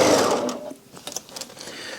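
A sewing machine stitches the seam of a fabric gift bag made from fat quarters. A loud, busy whirr at the start drops away, followed by lighter rapid mechanical ticking.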